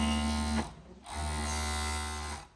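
Electric sewing machine stitching the seam of a long-sleeve button-up shirt, a steady close motor whir with a low hum, running in two bursts separated by a brief pause.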